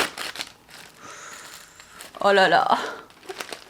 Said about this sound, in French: Je vais ouvrir le paquet.